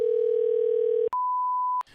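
A telephone dial tone plays while a call goes out to a coin shop: a steady hum for about a second, then a brief gap and a pure continuous tone, alone with no voices.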